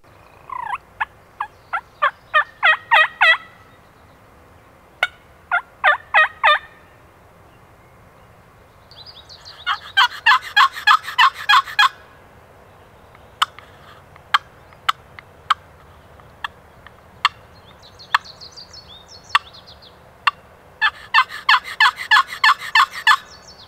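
A hunter's turkey call, diaphragm or friction slate or box, produces bursts of loud, close yelps and clucks. Rapid runs of notes alternate with spaced single clucks and short pauses, with no voices.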